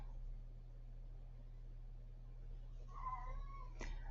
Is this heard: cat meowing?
yes